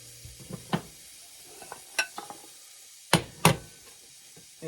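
Chopped onion sizzles in a pot of butter for a big batch of ham and potato soup, with a soft steady hiss under several sharp clanks and scrapes of a stirring spoon against the pot.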